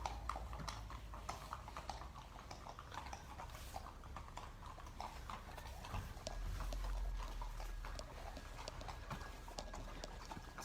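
Horses' hooves clip-clop as the final group of riders heads out from a residential riding stable, a steady uneven patter of footfalls over low background rumble for the whole stretch.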